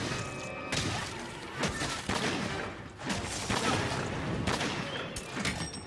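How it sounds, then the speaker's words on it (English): Gunlance firing and Wyvern's Fire blast in Monster Hunter World, a series of sharp, loud explosive bangs and heavy impacts every second or so, close and dense over combat noise. "I want to see Wyvern fire in action."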